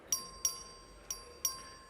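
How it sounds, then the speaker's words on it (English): A bell rings for a record vote in a legislative House chamber, four bright metallic strikes spaced unevenly apart, each with a short ringing decay, fairly quiet against a low background hum. "Clerk, ring the bell."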